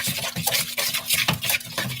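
A spoon stirs a quiche filling mixed with Canadian bacon, onions and green onions, making quick irregular scraping and sloshing strokes against a bowl, close and moderately loud, with no talking.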